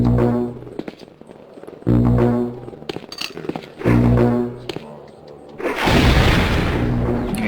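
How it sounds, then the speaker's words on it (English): A flaming skull is launched by a Slay Undead spell in a fantasy video game, heard as a loud whooshing, roaring burst near the end, after several booming thuds and ringing tones in the game's background. "it shoots out a little flaming skull that destroys enemies and brings their captured soul back to me"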